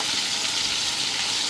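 Chicken pieces dry frying in a pan give a steady, close, hissing sizzle that stays even and unbroken throughout.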